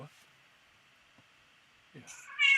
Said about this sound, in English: Whose cat is on the show?